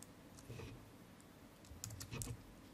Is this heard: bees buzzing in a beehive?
no